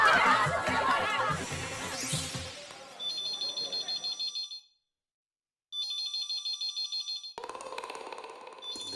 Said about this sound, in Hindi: दया फोन क्यों नहीं उठा रही है?